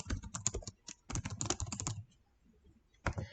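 Typing on a computer keyboard, bursts of rapid key clicks in two runs, a pause of about a second, then a brief final flurry, close and clear with no talk.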